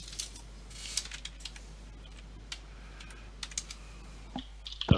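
Someone types on a computer keyboard in irregular bursts of soft, close key taps over a steady low hum, with no talking.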